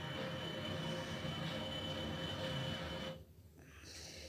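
A light rail train runs steadily along the track with a continuous rumbling and rolling hum, close and fairly loud, dipping briefly near the end before resuming; no one speaks.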